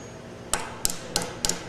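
Four sharp metallic hammer strikes pound bent metal banding tabs flat against a pole, evenly spaced about a third of a second apart, close and crisp over quiet background.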